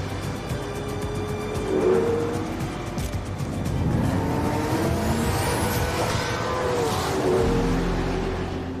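A Ferrari driven with a manual gearbox, its engine revving up and dropping back through gear shifts in a loud, continuous roar with rising and falling pitch.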